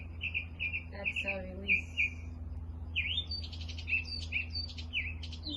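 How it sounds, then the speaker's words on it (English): Small birds chirp and trill in short repeated phrases through a calm outdoor setting, clear but moderate in level over a low steady hum, while a soft voice gives brief spoken instructions. "these beautiful, beautiful birds giving us a little serenade here"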